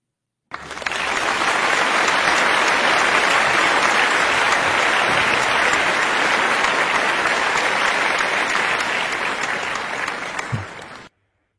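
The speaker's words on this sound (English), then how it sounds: "She deserves applause." Sustained applause from many hands, loud and even throughout, starting abruptly and cutting off cleanly after about ten seconds with no talk over it.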